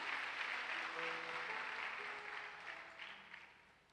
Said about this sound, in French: On peut acclamer Jésus.